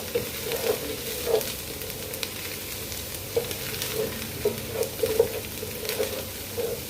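Butter sizzles in a little cooking oil in a pan, a steady frying crackle broken by repeated scraping and tapping strokes of a stirring utensil, with no talk over it.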